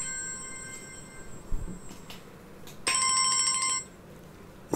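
A phone ringtone plays a sustained electronic tone, then briefly switches to a brighter, louder chiming pattern before cutting off abruptly, heard close in a quiet room with no talking.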